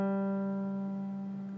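A single low G string on a ukulele, plucked once and left ringing, a steady sustained note that slowly decays.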